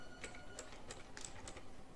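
Light clicking of fingers typing on a computer keyboard, a handful of separate keystrokes at an uneven pace, quiet and close, with no talk.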